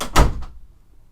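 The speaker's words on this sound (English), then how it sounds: "close the door." A single door shuts with one solid thump up close, followed by a short, fading rattle in a quiet room.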